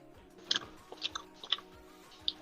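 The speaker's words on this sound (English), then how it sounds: "mute your mic while you're chewing though, bro." Close chewing of gummies into a microphone: soft, wet mouth sounds with about five distinct crunchy bites spaced roughly half a second apart, no talking.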